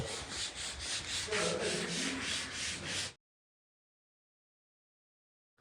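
Steady scrubbing of a front courtyard during house cleaning, a rough rhythmic rubbing close by for about three seconds before it cuts to silence.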